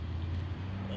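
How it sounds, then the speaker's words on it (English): Steady low rumble of street traffic beside a garden, a continuous hum with no distinct passing vehicles. "so please pardon the street traffic"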